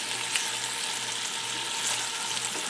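Ground beef and potatoes frying in a pan, a steady close sizzle with crackling pops throughout.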